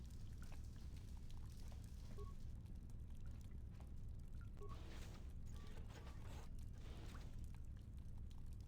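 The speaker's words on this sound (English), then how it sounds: "Water has been transferred to an adjoining pressure chamber." Water pours and trickles steadily into a pressure chamber in a Star Wars game, a faint, continuous liquid wash with a low rumbling bed and occasional small clicks, no talking over it.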